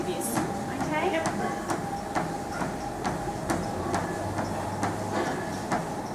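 A treadmill running at walking pace, its belt and motor giving a steady mechanical rumble with regular footfall thumps roughly every half second, close and moderately loud, while a person talks over it.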